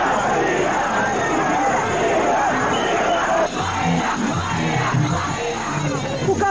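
Carnival crowd of Bahia football fans shouts and chants in a dense, continuous roar, with yells and cheers rising from a mass of voices at an airport arrival celebration.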